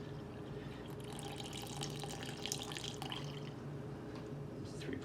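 About four ounces of water poured into a sourdough starter container, a quiet, continuous trickle and splash lasting several seconds, with faint background noise.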